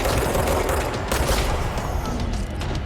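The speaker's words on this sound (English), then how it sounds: "Where am I being shot at from?" Dense gunfire in the video game Control, a loud continuous barrage of overlapping shots and booms with no talking.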